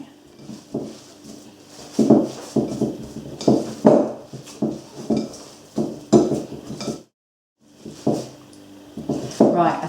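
A chickpea and sweetcorn burger mixture squelched and pressed by hand in a bowl, giving repeated wet slaps and knocks against the bowl in a steady, close rhythm with a brief pause partway through.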